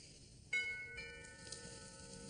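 A doorbell chime sounds once at a moderate level, its clear ringing tones lingering and fading in a quiet domestic room.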